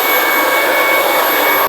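Ryobi 18V HP stick vacuum running with its short turbo nozzle fitted, a steady loud motor whine and rushing airflow that holds constant close-up, then cuts off abruptly at the end.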